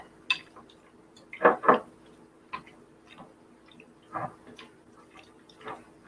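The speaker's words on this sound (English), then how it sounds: "so now I'm mixing together the mayo, the yogurt," A spoon mixes mayo, yogurt, egg and tuna in a bowl, giving scattered clinks and taps against the dish, with a sharp double scrape near the start and softer knocks spaced out afterward, close and quiet, no talking.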